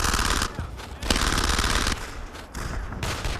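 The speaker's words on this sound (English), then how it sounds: "That machine gun's opening up." Sustained machine-gun fire in the video game Brothers In Arms rattles in dense, loud bursts with continuous rapid reports and brief pauses, filling the scene alone.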